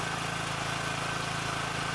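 Generator engine fitted with a Klockner gas kit runs steadily under maximum load, a constant close hum with a faint regular pulse and no talk.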